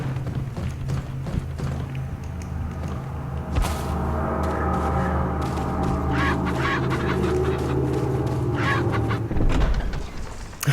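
A chicken clucks and squawks in Resident Evil 4 on PS4, its short fowl calls repeating in bursts over a steady game background, with a sharper flurry of clucking toward the end.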